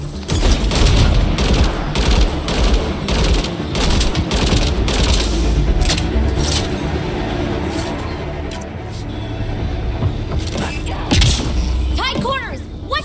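Gunfire in the sci-fi shooter Mass Effect Andromeda: rapid bursts of weapon shots and heavy thuds crackling close and loud, with shouted voices mixed in over the battle.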